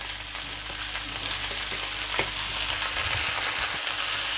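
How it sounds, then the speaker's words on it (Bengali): Onions sizzle steadily in a hot pan while being stirred for restaurant-style chilli chicken, a dense continuous frying hiss with occasional scrapes and knocks of the utensil, close and fairly loud. "তারপর কয়েক সেকেন্ডের জন্য একটু পেঁয়াজটা নেড়ে চেড়ে মিক্স করে নিব"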